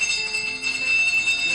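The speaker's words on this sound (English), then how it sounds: "who the hell invented doorbells anyway?" A household doorbell rings with a bright, sustained electronic tone, steady and fairly loud, holding for over a second with a slight dip midway, no talking over it.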